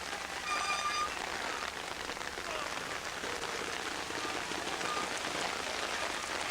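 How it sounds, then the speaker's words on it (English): Heavy rain pours steadily on a hillside at a 1987 observed trials event in Les Rousses, France, a dense, constant hiss of drops with faint distant sounds beneath. "it's raining about the hardest now"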